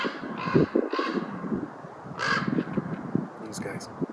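A raven calls in the backcountry during a backpacking trip, giving a few harsh croaks over ongoing nearby talk and outdoor background noise.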